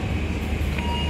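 Argo Bromo Anggrek train standing briefly at Bojonegoro station, a steady low rumble with a faint sustained tonal hum, close and even, with no voices.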